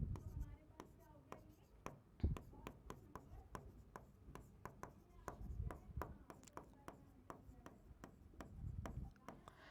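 Chalk or marker taps and scratches across a board during a thermodynamics lesson, a long run of rapid, sharp ticks and rubbing strokes, faint and close, with a teacher's voice speaking softly underneath.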